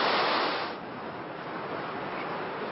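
Ocean surf at Biarritz during a tandem surfing competition, a steady broadband wash of breaking waves, louder for the first moment and then settling into a continuous roar with no voices.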